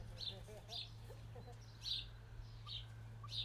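Faint high chirps from a little pet chicken named Gravy come in short bursts spaced through the clip, over a steady low hum and quiet murmuring in the background.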